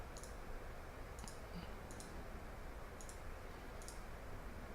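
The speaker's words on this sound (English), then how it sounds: "I'm going to start right-clicking the whole checklist." Computer mouse right-clicking through a flight simulator checklist: five crisp, evenly spaced clicks about a second apart, faint over a steady hiss, with no talk.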